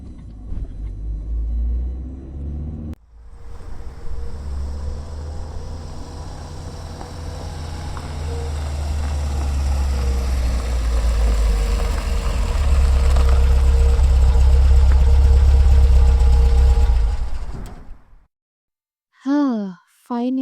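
A car engine rumbles steadily while driving, a deep continuous low drone that swells slightly over time before cutting off near the end, with faint breathy vocal sounds over it.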